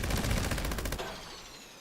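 Automatic gunfire in the video game Fallout 76, a fast loud burst of rounds for about a second, then ringing decay and fading echoes.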